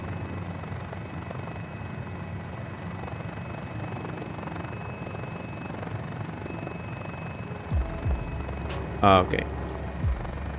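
A GotFriends Mini-500 helicopter settles toward a rooftop landing in a flight simulator, a steady rotor and engine hum running throughout, with a few thumps and a short spoken word near the end.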